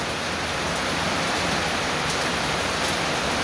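Rain falls at an outdoor pitch event as a dense, even hiss of drops on surfaces, loud and continuous from start to finish, with no voices over it.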